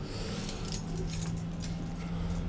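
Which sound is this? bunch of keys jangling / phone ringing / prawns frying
bunch of keys jangling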